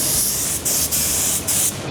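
Spray gun applying thin coats of black paint to car parts, a loud steady hiss broken by three short pauses as the trigger is released and pressed again, with no voices.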